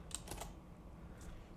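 A few quick, crisp clicks on a computer keyboard as a command is typed, followed by a short pause and one more soft tap.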